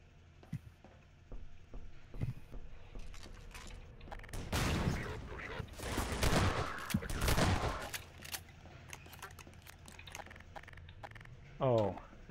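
AR2 rifle fire in a modded shooter game comes in dense bursts of rapid shots, loud against faint background, with a voice speaking quietly between the volleys.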